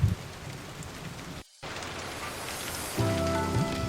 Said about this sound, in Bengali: বড় বড় ঢেউ আছড়ে পড়ছে।